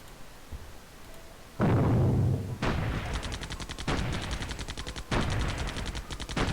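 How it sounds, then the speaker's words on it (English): Artillery bombardment in Civilization III: after a quiet lead-in, a heavy boom lands, followed by rapid, rattling bursts of gunfire in repeated volleys, loud and close with no talk. "Bombarding it again, it's going to take 2 or 3 turns."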